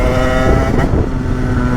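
A motorcycle engine runs during carburetor jet tuning, a loud, close, steady buzzing drone with a slight dip in revs midway.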